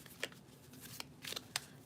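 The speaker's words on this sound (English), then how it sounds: "So I'm closing my eyes and I'm just going to shuffle and see what comes out." Tarot cards being shuffled by hand, close and soft, with several quick riffling bursts and flicks in an irregular rhythm over a quiet room.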